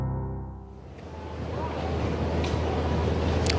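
Small waves washing in at the pier on Folly Beach on a calm sunny day after Hurricane Matthew, a steady broadband surf wash with some wind, continuous and moderately loud.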